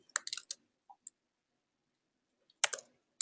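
A computer mouse clicks and a keyboard taps in short bursts of crisp plastic clicks, close and quiet, with a long silent gap between clusters.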